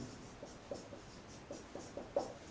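A pen scratches on paper during a handwritten Sanskrit grammar lesson, faint close strokes in a quick irregular rhythm of short bursts against a quiet room.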